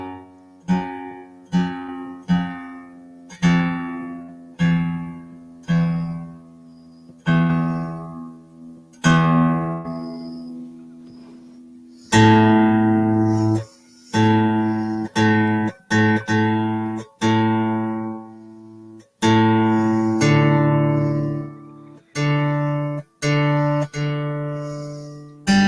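Acoustic guitar with freshly fitted strings, plucked note by note and then strummed in full chords, each attack ringing and decaying, played alone without voices.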